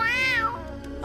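A cartoon cat lets out one long, rising-and-falling meow up close, followed by a softer trailing mew, with no talk over it.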